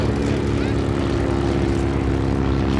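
A WWII-era propeller airplane at an air museum's WWII weekend in Reading, Pennsylvania, drones loudly and steadily with a thick, throbbing engine rumble that does not let up.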